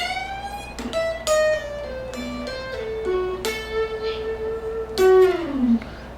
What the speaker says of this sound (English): You're going to do a full bend on the 12th fret of the high E. A little more than a full bend actually